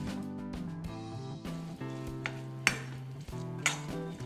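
Coarsely ground green peas stirred and frying in a pan with salt, turmeric, red chilli and garam masala, giving a steady close sizzle with soft scraping and stirring bursts and occasional utensil knocks, no talk.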